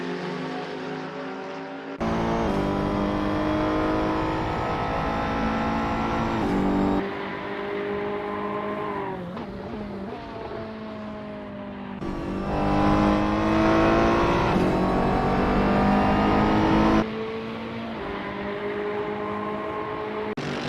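GT race cars, a Ferrari 488 among them, roar around the Watkins Glen circuit, with loud engine notes rising and falling as cars pass and shift gears, several overlapping passes in sequence with no talk.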